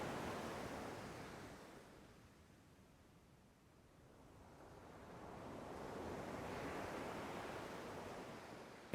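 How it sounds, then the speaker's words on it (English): Soft ocean waves roll in a slow, faint swell: a broad hiss of surf rises, fades to near quiet midway, then builds again into another long, gentle wash. "diluted amid the vast expanses of the rolling and tumbling ocean"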